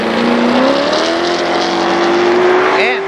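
Race cars roar past on the final lap of a Labor Day championship at Kil Kare Speedway, a loud, close engine drone with a rising whine that builds steadily and swells as a car passes near the end.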